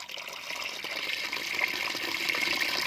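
Water gushes forcefully from a freshly opened tap in a continuous, rushing flow that stays steady and fairly close.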